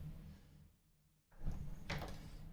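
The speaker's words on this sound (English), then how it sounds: "now that door should just shut" A door fitted with a Yale night latch is pushed shut, giving a soft close thud and latch click after a short quiet pause, followed by low room rustle.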